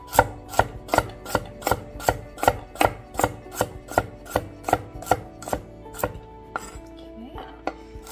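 Carrot pieces chopped with a knife on a board, about fifteen crisp, evenly spaced strikes in a steady rhythm, close and clear, ending with a few lighter scraping and shuffling sounds.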